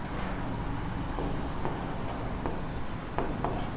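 Chalk or marker taps and scratches against a board during a physics lesson on electric charges and fields, in short strokes over a loud, constant background hum.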